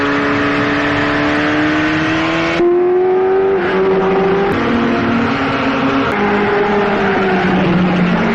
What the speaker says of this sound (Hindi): अपनी इस पहली फिल्म में भी उन्होंने हाई स्पीड कार रेसिंग वाले बहुत सारे सीन रखे थे